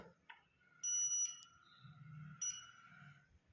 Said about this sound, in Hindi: कैपेसिटर चार्जिंग की वजह से वो बीप साउंड आया।